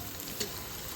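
Coarsely crushed tempe fries in a pan, giving a steady soft sizzle with a brief stirring scrape partway through.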